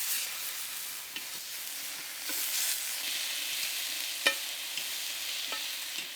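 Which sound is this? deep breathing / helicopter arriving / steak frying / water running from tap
steak frying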